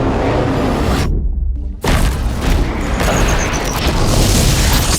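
A void-out explosion in a Death Stranding trailer erupts as a deep, loud boom that cuts to brief silence, then a heavy rumbling blast that continues thundering with debris noise.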